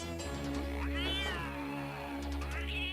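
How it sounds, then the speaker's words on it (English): A cat meows in the video game Dragon's Lair 2, a drawn-out, wavering cry set over steady game music that hums underneath. "Oh, fancy cat."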